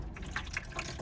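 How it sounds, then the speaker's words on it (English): Water from a basin drains and trickles out as a motorhome's drainless sink is tilted up, a short, close, gurgling pour with small splashy drips. "All you have to do is just slowly lift it up and it will pour down the back"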